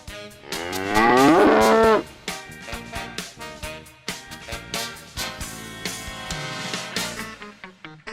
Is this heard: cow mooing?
yes